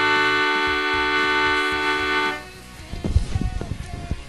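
A single sustained A note on a piano rings steadily for over two seconds, then stops, leaving quieter background noise.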